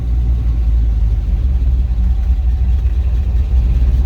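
A 1979 Chevy K5 Blazer V8 rumbles steadily as it pulls away in first gear with the clutch out and no throttle, a loud, close, low-pitched drone throughout.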